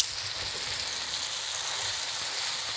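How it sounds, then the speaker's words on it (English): Butter melting in a hot pan for a shrimp capellini butter sauce gives a steady, soft sizzle and fine crackle that holds evenly throughout, with no talking. "Let that butter melt in there a little bit."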